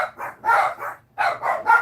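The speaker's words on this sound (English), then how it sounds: "You get to hear my dogs." Several dogs bark in quick bursts close by, two clusters of sharp, loud barks separated by a short pause.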